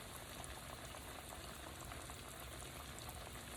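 Catfish frying in a pan, a quiet, even bubbling sizzle held at a constant low level throughout.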